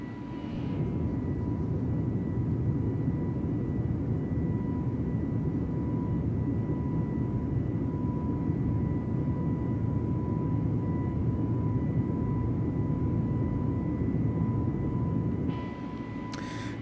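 Steady, loud engine roar from an Airbus A320neo at climb thrust in Microsoft Flight Simulator, a constant broadband drone with a faint tonal whine, unbroken for the whole stretch.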